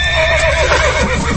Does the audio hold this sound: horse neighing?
yes